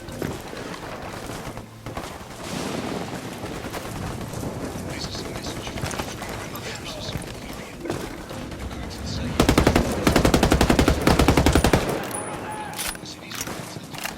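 Gunfire in the video game Ghost Recon Wildlands during a firefight with rebels in Santa Blanca: scattered shots, then a loud, rapid machine-gun burst near the end, with speech mixed throughout.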